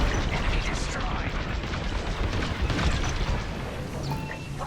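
A ship explodes in the Star Wars: Squadrons space combat game: a dense, loud, sustained rumbling blast that fills the whole stretch, with no pause or quiet gap.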